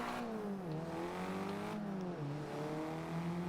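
A car engine in the racing game Forza revs loudly and continuously, its pitch climbing, dipping at a gear change and climbing again, with no voices over it.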